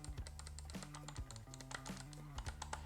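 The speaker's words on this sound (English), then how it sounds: "It has this satisfying click." A 3D printed retro computer mouse modeled on the Commodore 64 mouse gives repeated crisp clicks in quick, uneven succession, close and clear over a faint background hum.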